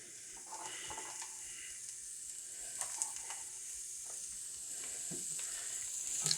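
Shallots sizzle steadily in hot oil in a pan for shrimp scampi, a continuous bright crackling hiss with occasional stirring clicks, close and alone without talk.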